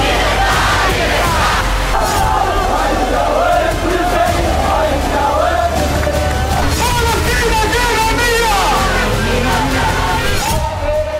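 A large rally crowd in support of the IDF chants and yells slogans, loud and continuous throughout, with a dense babble of many voices and rhythmic shouting.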